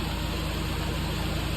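A van engine idles steadily while warming up its oil, a continuous close mid-to-low rumble with a faint vibration and no voices.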